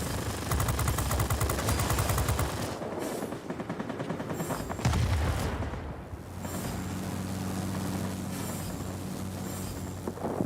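Aircraft machine guns in the combat flight game World of Warplanes, flying a P-40N Kittyhawk: dense, loud rapid bursts of gunfire over engine roar, pausing briefly midway before a steadier drone and further firing resumes.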